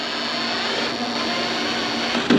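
A power driver sinks self-tapping screws while a heat shield is fitted on a Stowaway 2 cargo carrier, giving a steady, close whirring drone throughout and ending in a brief sharper burst.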